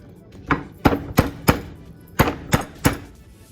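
Ginger being pounded open for a Hmong pork stir fry: seven sharp, close thuds in an uneven rhythm, no talk.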